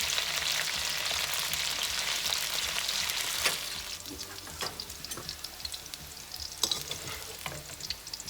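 Vegetables for a Filipino vegan pinakbet fry in a hot pan, a steady crackling sizzle with sharp splattering pops that ease slightly as the heat is lowered, with occasional stirring clinks.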